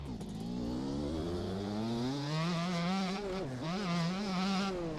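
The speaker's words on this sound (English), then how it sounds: "I really like the way these bikes sound" A motocross bike engine in the MX Bikes game revs and climbs in pitch, briefly drops and then rises again, a continuous buzzing snarl held loud and close throughout.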